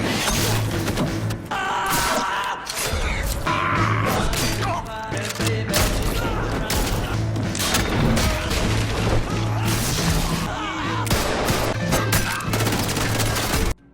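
Heavy gunfire in a Rambo film scene set in darkness, dense bursts of loud shots and crashing blasts overlapping almost without pause, with a music score underneath.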